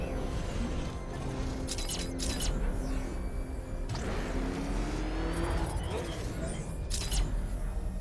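The Batmobile from the Batman Arkham Knight video game drives hard, its engine droning steadily under shouting voices, game effects and occasional whooshing sweeps.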